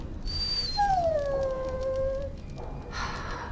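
A dog in the Dragon Age Origins video game lets out a long, drawn-out whimpering whine that slides downward in pitch, close and clear over a low background hum, with no talking.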